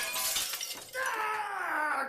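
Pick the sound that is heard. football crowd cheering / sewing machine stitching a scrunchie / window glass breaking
window glass breaking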